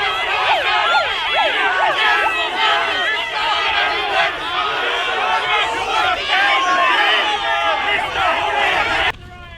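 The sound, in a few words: crowd of protesters outside Fraser Anning meeting in Melbourne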